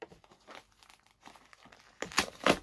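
Paper and plastic wrapping on a well-packed parcel crinkling and tearing in several bursts, with a louder, closer ripping flurry toward the end.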